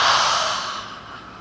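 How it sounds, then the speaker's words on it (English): A single long breath pushed out through the mouth during a yoga cleansing-breath exercise, a soft airy whoosh that starts strong and slowly fades, heard close and alone. "Cleansing breath. Inhale through the nose, exhale through the mouth."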